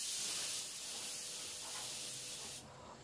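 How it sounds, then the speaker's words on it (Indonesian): A spray gun lays down blue-violet pearl paint in a wide, thin fan pattern, giving a continuous close airy hiss that holds steady before cutting off near the end. "saya senang menggunakan spray gun yang memiliki karakter semprotannya lebar dan tipis"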